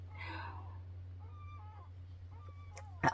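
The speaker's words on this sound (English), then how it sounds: "my cat is jumping around here" A pet cat indoors gives a few faint, thin meows over steady low hum, with soft background babble early on and a brief louder knock at the end.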